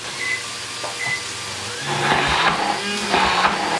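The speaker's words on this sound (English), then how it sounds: "so we've put it in the mixer" Food mixer blending kale and pasta: a continuous whirring motor hum that grows louder and rougher partway through, with churning bursts as the blades work the mixture, no talk.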